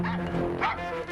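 A dog yips and barks repeatedly in a played movie clip, the short whimpering barks sitting in a dense, busy soundtrack mix.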